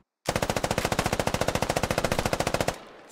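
Rapid automatic gunfire in a video game, a loud sustained burst of evenly spaced shots at a fast steady rhythm lasting over two seconds, then stopping abruptly.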